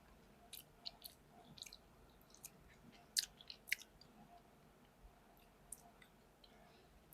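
A bite of stir-fried clams is chewed close to the mic, with quiet wet mastication and scattered crisp clicks and crunches spread over several seconds, with no talk.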